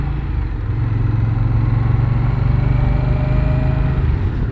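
An Indian Scout Bobber Twenty motorcycle rolls along at walking pace or slower, its engine a steady low rumble with a droning hum, close and continuous with no talking.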